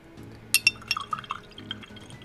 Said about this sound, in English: I need to put some water in this.